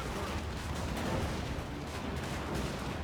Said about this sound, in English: my handgunners are shooting those guys too